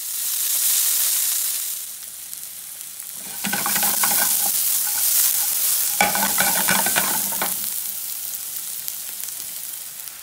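Shallots sweat and fry in a pan with a steady hiss that swells into busier crackling and spattering bursts during stirring, then settles back to a quieter sizzle.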